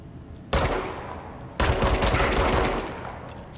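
Rapid gunfire from the video game Control blasts at red growths in a quarry, two loud sustained bursts of fast shots, the second one longer, close and dense with no talking.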